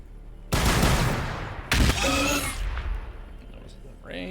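Heavy fire support guns in the strategy game Warhammer 40k BattleSector, two loud abrupt blasts about a second apart, each with a rumbling decay, and a voice speaking briefly at the end.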